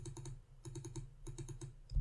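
Soft, quick clusters of computer keyboard key taps as a word is typed, in three short rhythmic bursts close to the mic, with no talk.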